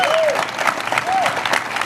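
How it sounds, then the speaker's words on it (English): An outdoor crowd at a college foundation cookout claps steadily in dense, sustained applause for veterans, with scattered whistles rising above the clapping. "Let's give those veterans a hand."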